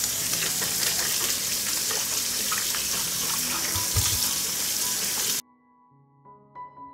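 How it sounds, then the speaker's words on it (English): Fresh tomatoes washed under a running kitchen tap, a steady hiss of flowing water with splashing and handling for about five seconds before the tap shuts off, leaving faint low kitchen hum and a few soft knocks. "I will wash the tomatoes."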